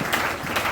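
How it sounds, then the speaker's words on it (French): A church congregation breaks into applause, a dense, even wash of many hands clapping at moderate distance, brief and unbroken. "Est-ce qu'on peut acclamer pour la gloire de Dieu?"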